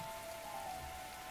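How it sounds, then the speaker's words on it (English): Rain falls steadily in the video game The Hundred Line: Last Defense Academy, a quiet, even hiss of downpour with no other sounds. "This rain stuff is nothing but trouble."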